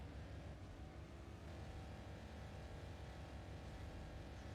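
V8 car engine in the Forza Motorsport 4 racing game, a constant droning roar under full throttle, steady and unbroken throughout, with no voices.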